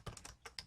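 Typing on a computer keyboard while entering a series name in Excel: a few soft, quick keystrokes, close but very faint, in an otherwise quiet room.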